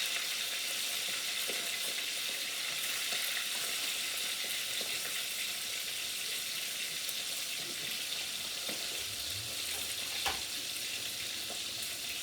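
Fish frying in a large pot with garlic, sizzling as a steady, close hiss throughout with a few small pops and crackles, no talk.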